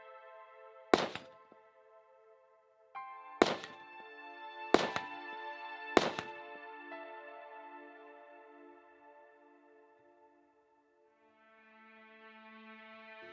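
Four sharp gunshots strike a steel spinner target at a High Desert Brutality shooting match, each followed by a long ringing metallic tone that slowly fades, the impacts spaced a few seconds apart and loud against a quiet background.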